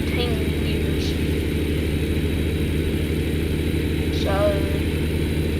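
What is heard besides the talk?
Kenworth truck engine idling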